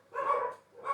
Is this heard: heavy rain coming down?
no